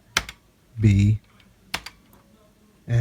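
Computer keyboard keys are pressed while Kodi is set up on an Arcade1Up game cabinet modded with a Raspberry Pi. A few separate clicks sound close by, with short bursts of speech between them.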